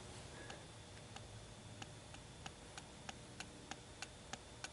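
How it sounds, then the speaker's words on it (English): A small pendulum in a homemade silicon crystal graphite battery device slams against plastic supports on either side, giving sharp clock-like ticks in a steady rhythm that grow louder and crisper over faint background hiss. "It's only because the pendulum is slamming against the plastic supports on this side and the other side."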